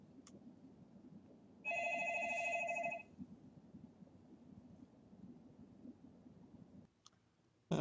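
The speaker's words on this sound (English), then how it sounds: "Sorry, the phone rang." A telephone rings with a sustained electronic bell tone lasting just over a second, faint and somewhat distant above a low background hum, followed by a couple of clicks.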